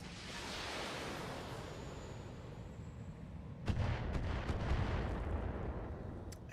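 In a space combat video game, missiles fire at the player's Corsair ship: a continuous rumbling roar, then a louder burst of sharp blasts and crackling impacts.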